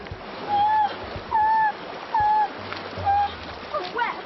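Four rhythmic wading strides in wellies across an Andes river, each a close, loud splash and slosh with a squeaky squelch, separated by short pauses.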